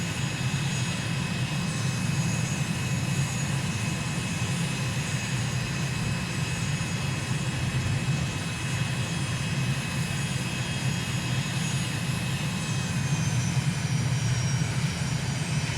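A Microsoft Flight Simulator airplane in flight around Hong Kong, its engine a loud, steady drone with a deep rumble and a thin whine layered on top, unbroken and constant throughout.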